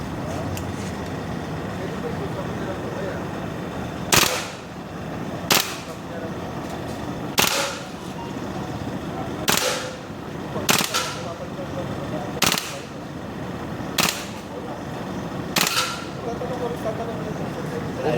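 An M4 gas blowback airsoft rifle fires short bursts, sharp cracks spaced every second or two over steady outdoor background noise, with people talking nearby between shots.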